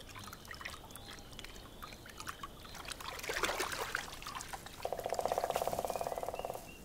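A wild wolverine swims through water with soft trickling and sloshing, faint and near, that swells midway; a steady buzzing tone joins near the end.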